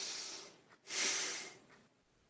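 Forceful nasal breathing during agnisar kriya yoga exercise, a long hissing exhale followed by a short pause and a second strong breath through the nose, close and fairly quiet, with no talking.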